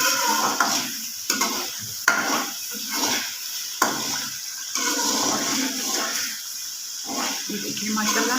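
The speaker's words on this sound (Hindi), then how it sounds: "थोड़ी सी बनाई कर लेते हैं ताकि थोड़ा ये घी छोड़ दे।" Chicken stir-fried in ghee for achar gosht sizzles in the pan, with a steady hiss broken by scraping stirs of the utensil and occasional knocks against the pot.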